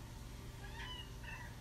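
A cat named Mango gives two soft, short meows a moment apart, faint against a low steady room hum.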